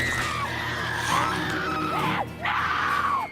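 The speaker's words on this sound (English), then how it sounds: "while she's screaming in agony" A woman from The Walking Dead screams in agony after a zombie bite, loud sustained wails rising and falling, then a short break before another drawn-out anguished cry.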